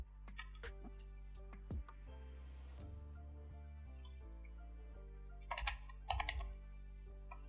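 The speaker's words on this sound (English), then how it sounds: "I use arrow keys." Arrow keys on a computer keyboard are pressed in a few soft, quick clusters of clicks, close up in a quiet room with no talking.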